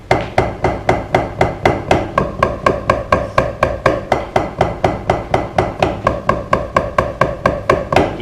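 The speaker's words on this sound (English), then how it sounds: "You're just playing a Flam on every downbeat." Drum flams played as a warm-up, each grace note dropped just ahead of the main stroke: sharp, loud, evenly spaced hits in a steady quick pulse, about three per second, close and dry with no talking.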